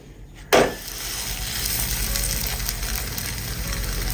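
Porotta frying in oil on a hot pan over low-to-medium flame, a sharp sizzle bursting in as the bread hits the oil, then a steady close crackling fry throughout.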